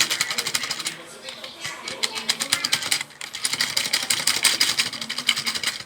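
A gumball vending machine runs with a steady mechanical rattling and clicking, a dense rapid ticking that pauses briefly midway, then resumes just as busily at close range.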